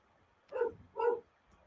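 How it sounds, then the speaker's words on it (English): A dog gives two short, close barks in quick succession on a snowboard-gear live stream, loud and clear over a quiet room background. "My dog wants to kill something."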